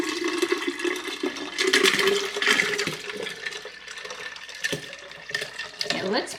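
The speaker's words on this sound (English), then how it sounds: "I'm gonna put most of it back in the pitcher" Lemonade pours from a cup back into a pitcher, a close gurgling trickle that swells and fades, with a few soft knocks and a brief voice near the end.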